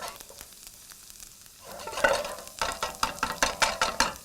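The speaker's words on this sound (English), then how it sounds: "just kind of keep stirring this in there. We're going to go until the garlic is golden" Garlic sizzles in a pan, starting as a soft hiss, then a spatula stirs it in a run of close, rhythmic scraping strokes over the crackle.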